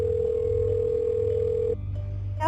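A phone line tone sounds steadily and loudly over a low hum as an AI system places a call, then cuts off abruptly near the end, leaving quieter line noise.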